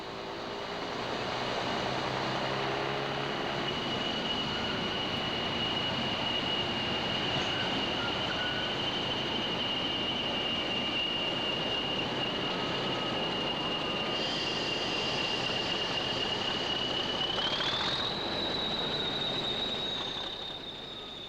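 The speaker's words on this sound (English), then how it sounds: "4152 arrives at New Mills with a Yarmouth to Manchester service." Class 40 diesel locomotive 4152 pulls into New Mills station with a Yarmouth to Manchester passenger train, a continuous rumble of engine and rolling wheels under a long, high, steady wheel squeal that rises in pitch near the end.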